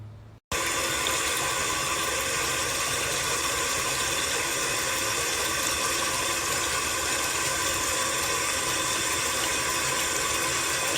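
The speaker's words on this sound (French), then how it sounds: "Voilà, du coup j'ai rincé" Running water from a tap while a face is rinsed, a steady close rushing flow that starts abruptly after a brief quiet moment and continues unbroken, with no talk.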